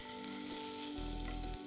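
An open toasted sandwich fries in a pan with a steady close sizzle, while lower clattering and scraping from the pan comes and goes.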